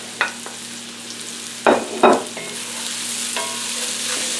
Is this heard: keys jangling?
no